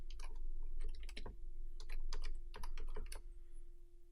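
Quick bursts of computer keyboard typing as a project name is entered, irregular clusters of keystrokes clicking close up over a steady low electrical hum, with no talking.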